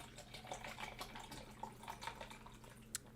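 Liquid is poured into a container, heard as a faint, soft trickle with a few small drips and splashes, quiet and close.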